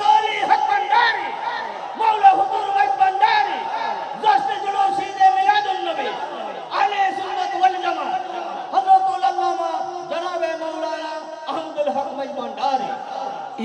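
A large crowd at an Islamic religious gathering shouts the takbir back in unison, loud, sustained voices rising and falling in repeated waves of chanting.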